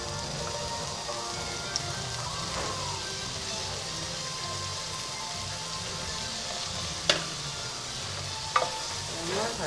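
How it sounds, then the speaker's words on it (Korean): Burdock stir-fries in a pan over low heat, a constant soft sizzle and crackle with occasional sharp clicks of a utensil scraping and tapping the pan. "달달달 볶아줍니다."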